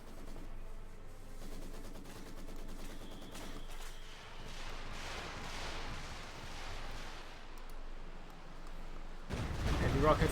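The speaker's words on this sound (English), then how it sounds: "Heavy rocket fire here and almost takes out the entire Maxim crew" Heavy rocket fire in a Company of Heroes 2 battle, a sustained barrage of rapid overlapping blasts and crackling impacts at moderate level, ending in a louder close burst, with a commentator talking over it.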